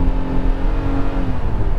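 Hyundai Casper small city car engine revving steadily while accelerating in second gear, a continuous near drone with a slowly rising pitch and no talk.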